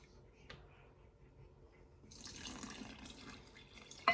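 Tap water runs into a vessel for sourdough bread dough, starting as faint drips and then becoming a steady, close splashing stream for the final couple of seconds, ending with a brief clink.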